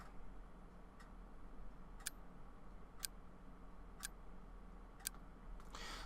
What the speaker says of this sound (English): The ticking of a clock is like a hammer inside of my head.